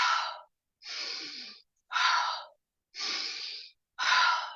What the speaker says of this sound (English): Breathe very intensively. Inhale and exhale.